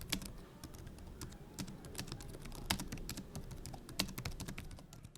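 Keys clatter in a quick, uneven run of clicks on the keyboard of an ASUS TUF Gaming A16 laptop, whose keys are soft and fairly loose; the tapping is close and steady, with no talking.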